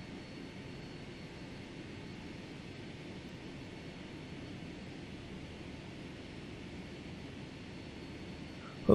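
A Boeing airliner's engines drone steadily in Flight Simulator X, a broad, even whooshing hum that holds at moderate level throughout.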